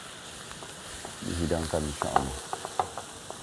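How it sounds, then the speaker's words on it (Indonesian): A spatula stirs food frying in a pan, sizzling with scraping strokes and clinks, close, while someone speaks briefly. "Nah, terus kita aduk lagi dan insya Allah sebentar lagi sudah siap"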